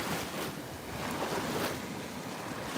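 Mild ocean surf at a beach heard from within the water, a steady broad wash of gentle waves and wind noise filling the whole stretch, with no talking.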